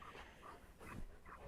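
A dog panting close into a headset microphone, a quick rhythmic series of breathy huffs, loud and near, with no talk over it.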